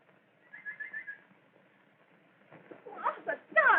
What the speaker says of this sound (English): The nightingale.